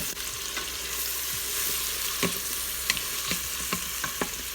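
Chopped onion and garlic fry in butter and extra virgin olive oil inside an Instant Pot, a steady loud sizzle with occasional soft clicks and scrapes of stirring, and no voices.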